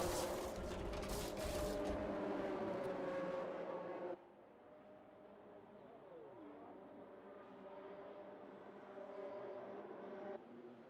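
Several F1 race cars in a Brazil circuit video game, engines droning steadily at moderate distance, one passing with a falling pitch sweep midway, the pack noise dropping after a few seconds.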